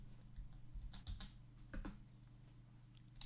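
Fast bursts of typing on a computer keyboard in a quiet room, close and faint, over a steady low hum with no voices.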